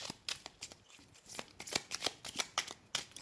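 Oracle cards shuffled by hand, a rapid, close run of crisp riffling slaps and flicks repeating steadily for several seconds, fairly loud with no voices over it.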